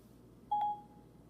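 A single clear electronic tone from an iPhone 6 as a call is dialed, lasting about a quarter second in an otherwise quiet room, with no one talking.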